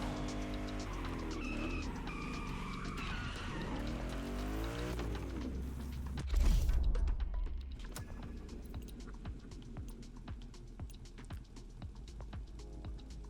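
A drag racing car in The Crew Motorfest revs and whines at high engine pitch, then bursts off the line with a loud roar and fades into a rattling, crackling rush of noise.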